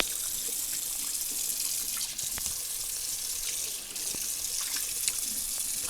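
Water runs steadily from a tap into a kitchen sink during washing up, a continuous bright hissing splash with small clinks and dips as the stream shifts, close and fairly loud with no talking.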